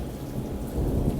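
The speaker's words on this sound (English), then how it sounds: "You could probably hear it, and I'm sure you hear that thunder." A dense wash of rain beats down close by on a patio, with low thunder rumbling through it, steady and enveloping with no voices.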